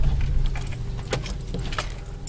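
Inside a moving car, a steady engine and road rumble fills the cabin, with light jingling of keys over it and no talking.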